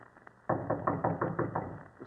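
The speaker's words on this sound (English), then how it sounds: "He will then assume his most authoritative air and knock." Knocking on a door as a radio drama sound effect: a run of about eight firm, evenly spaced knocks, close and fairly loud, with a faint tap at the end and no talk.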